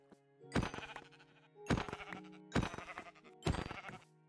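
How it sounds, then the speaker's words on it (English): Llamas in Minecraft give four separate bleating calls at a steady spacing, each loud and close, with quiet between them. "oh no, they were llamas"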